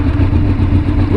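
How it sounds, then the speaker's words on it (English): A Honda VFR750 motorcycle engine running steadily and loud, up close, just after a jump start, with a dense rumbling drone held throughout. "We're gonna jump the bike, hope that it starts, and get going home."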